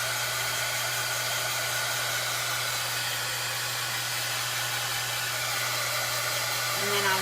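A hair dryer blows steadily on a fresh coat of paint on a pizza pan, a constant loud close whirring hiss with a low hum, unbroken for the whole stretch with no talking.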